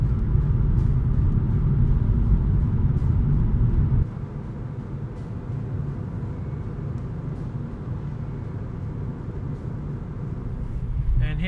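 A car drives a road in Hawke's Bay at dusk, giving a steady, close engine and tyre rumble that softens partway through and then swells again toward the end.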